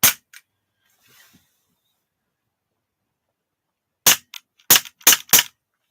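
A CO2-powered airsoft pistol fires a close, sharp bang near the start, then a quick volley of four or five loud cracks in uneven succession after a quiet stretch.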